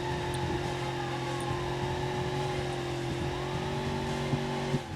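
Car engine revving steadily with wheels spinning and losing grip in BeamNG.drive, a continuous loud whine with rising and falling pitch and occasional tire squeal throughout.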